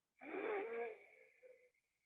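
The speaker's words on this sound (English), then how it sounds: "Breathing in from the left nostril." A slow, steady inhalation through the left nostril during an alternate-nostril breathing exercise for seniors, a close, airy, slightly whistling intake lasting about a second and a half before fading, with no talk over it.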